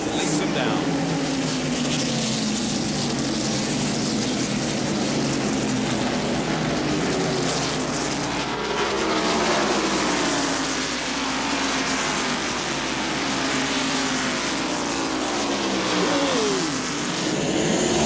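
NASCAR stock cars roar down toward the green flag at the 1993 First Union 400, a loud sustained engine drone with rising and falling pitch as the field passes, under continuous crowd and track noise.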